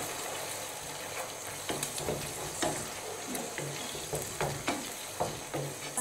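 Wild mushrooms fry in a pan for an Italian risotto, a soft continuous sizzle with occasional clicks and scrapes of stirring, fairly quiet and without voices.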